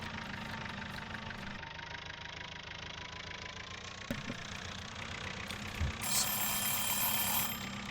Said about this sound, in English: That's our handy notification indicating where our 30 minutes are up.